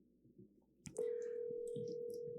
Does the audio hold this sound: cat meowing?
no